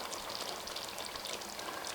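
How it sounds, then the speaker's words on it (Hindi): Water pours steadily into a cooking pot of spiced mutton kofta gravy, a continuous close splashing hiss that runs without a break and with no talk over it. "अब हम इसमें जितनी हमें ग्रेवी की ज़रूरत है हम उतना पानी डालेंगे।"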